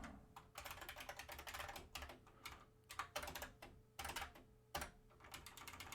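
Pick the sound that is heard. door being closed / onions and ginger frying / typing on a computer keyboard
typing on a computer keyboard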